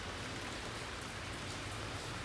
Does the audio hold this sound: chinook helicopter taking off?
no